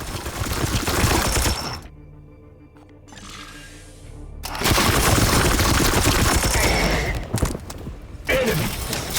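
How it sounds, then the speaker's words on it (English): Rapid gunfire bursts rattle loudly at close range in a turn-based sci-fi tactics game, broken by a short quieter gap holding a ringing tone before the heavy firing resumes. "So we're gonna get up in melee to shoot this guy."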